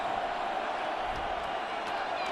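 A stadium crowd in the Madden 26 football video game keeps up a steady, even roar of cheering throughout, with no sharp peaks.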